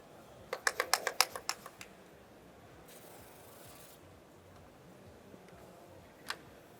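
Protective film (PPF) peeled off a car panel, a quick run of faint crackling clicks followed by a soft, drawn-out rustle and one last tick, quiet and close, with no talk.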